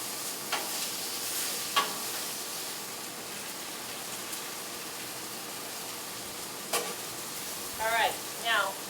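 Steak and potatoes sizzle steadily on a hot griddle, a continuous hiss with occasional sharper crackles and scraping near the end.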